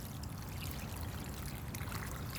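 Water pours steadily onto the soil of a potted plant, a continuous faint trickling wash.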